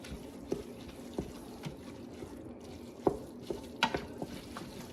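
Ground meat for lasagna browning in a pot, a soft steady sizzle broken by scattered clinks and scrapes as a utensil stirs it at a relaxed, irregular pace.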